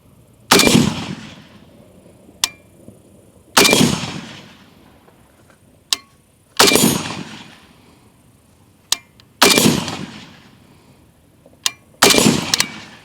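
Rifle fire at a shooting range, a five-shot group: loud sharp reports spaced roughly three seconds apart, each ringing off with a short decay, with fainter distant cracks from other shooters between them.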